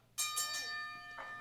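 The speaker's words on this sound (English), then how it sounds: "The bell has been sounded and the action is about to be underway." Wrestling match bell struck three quick times to open the bout, bright ringing tones sustaining between strikes, followed by a softer fourth ring, close and clear with no talk over it.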